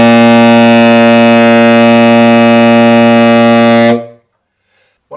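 A saxophone sustains one big, full low C note for around four seconds, loud and harmonically rich with a steady tone, then stops abruptly, leaving near silence.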